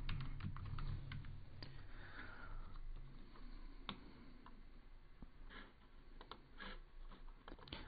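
Rapid, uneven keystrokes on a computer keyboard during Kotlin Android coding, close and fairly steady, with occasional louder key taps and no talking.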